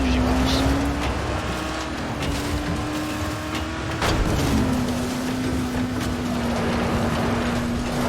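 Vehicle driving in Dying Light, a steady engine drone that holds one pitch, dips after a couple of bumps and jolts, then settles again, with someone talking over it.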